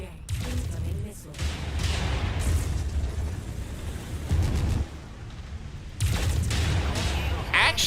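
Incoming missile strikes and explosions around a large mech in Mechwarrior 5, heavy sustained booming and rumbling blasts with sharp bursts, loud and continuous, with a voice talking over it.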